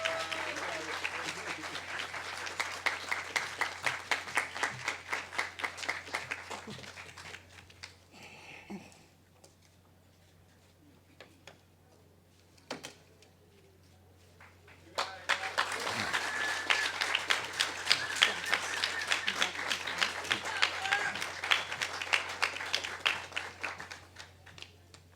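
An audience at an apartment ribbon cutting applauds to welcome a speaker to the stage, with steady clapping that fades into a quieter stretch and then swells back up into a second, fuller round of applause.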